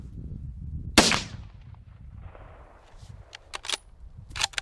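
A single sharp rifle shot cracks out close by during a hunt in thick timber, followed by quiet rustling and a few small clicks and knocks of handling.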